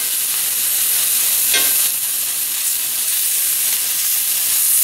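Beef pieces for a stew sizzle in a hot frying pan, giving a loud, steady, close hiss with a brief stir partway through and no voices.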